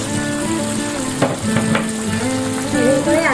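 Homemade KFC-style chicken fries in hot oil with a continuous, crackling sizzle, close and fairly loud, with a few sharper pops and no talking.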